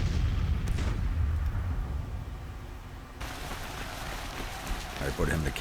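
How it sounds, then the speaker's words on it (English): Counter-battery artillery fire in Grand Tactician: The Civil War, a dense rumbling barrage of booms blending into a constant roar, loud and sustained, with a sharper burst of crackling shots joining midway. "You guys are starting to take counter batteries to start firing back at them"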